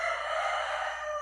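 A rooster named Lampião crows in one sustained, loud, fairly close call that fills the whole moment, with no voices over it.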